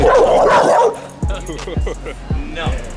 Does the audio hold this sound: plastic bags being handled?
no